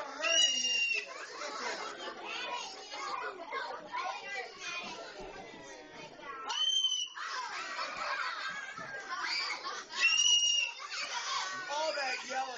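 Sid the cockatoo yelling in a home, with repeated shrill squawks cutting through overlapping chatter and children's voices, moderately close.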